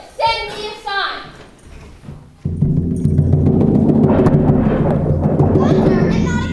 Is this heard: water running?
no